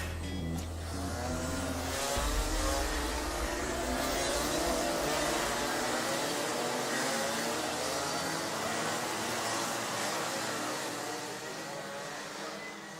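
Rotax Max senior racing kart engines at a Watergrasshill race meeting, a loud continuous buzzing drone of several karts passing and revving close by, steady throughout and easing slightly at the end.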